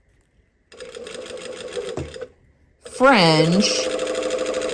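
A sewing machine runs in short bursts while stitching a baby hem, its rapid mechanical whir stopping and restarting, with a voice speaking over the later run.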